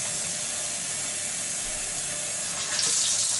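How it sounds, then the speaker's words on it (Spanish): Tap water runs steadily into a plastic bottle as it fills, a continuous close hiss that swells and brightens near the end. "medio video es llenando la botella"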